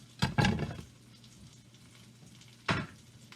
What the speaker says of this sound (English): we're going to put that right into the frying pan